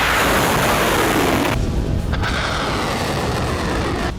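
Iranian missiles launching during an attack on Israel, a loud, continuous roaring rush of rocket exhaust with a deep rumbling boom, steady and close for several seconds.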